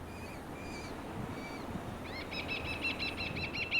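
Small migratory birds calling on Sardinia: thin, high chirps early on, then a fast repeated run of bright notes rising in volume, heard outdoors over a soft, steady background.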